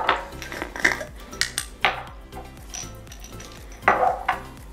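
A metal pot of chicken curry clanks and scrapes as it goes back onto the stove, with several close, sharp metallic knocks and utensil clinks over a light sizzle.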